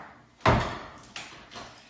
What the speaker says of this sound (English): they have this little attachment here that will close into a door